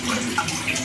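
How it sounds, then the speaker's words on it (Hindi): Three cups of water pour into a cooking pot in one short, steady rushing splash, close and clear, with no voices. "3 कप पानी ऐड करेंगे"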